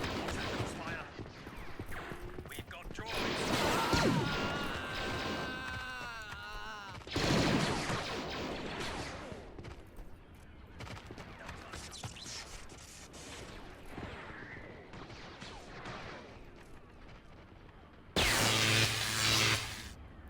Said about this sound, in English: We even have some outside the base firing into the base through this sort of this walkway window.